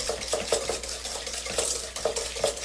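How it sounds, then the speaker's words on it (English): A whisk beating chocolate chess pie filling in a bowl, sugar still being melted in, with a steady rhythm of close scraping strokes and repeated metallic knocks against the bowl, all without talk. "I beat it with the whisk for as long as I can stand it."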